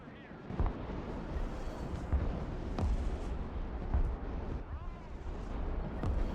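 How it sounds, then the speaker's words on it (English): An artillery barrage in the strategy game Broken Arrow pounds with repeated heavy explosions, several separate deep booms landing every second or so amid rumbling, while a voice talks faintly alongside. "Pretty good barrage."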